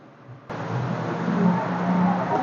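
An Olsenmark washing machine motor starts abruptly with its V belt removed, jumping from quiet into a steady, loud, even whir that holds without load and carries a faint low tonal hum beneath.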